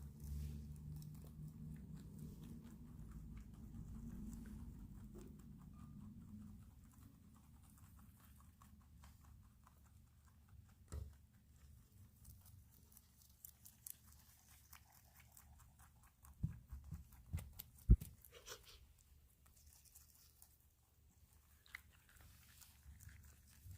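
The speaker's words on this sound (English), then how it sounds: "Good munching bunnies." Pet rabbits munch their breakfast food in quiet, soft, irregular chewing and crunching close by, with a few sharper crunches and knocks near the end against a low background hum.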